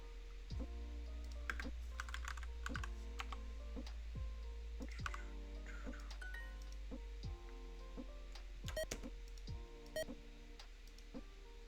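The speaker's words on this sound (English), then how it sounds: "Maybe the clicking is a little much," Computer keyboard keys click in quick, irregular bursts of typing, close and fairly quiet over a steady low hum, with occasional light clinks and ticks and no talking.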